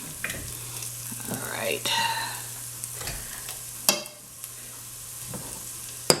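Gravy for chicken livers sizzling in a pan while being stirred, a steady close frying hiss with scraping and clinks of the utensil, and a brief spoken remark.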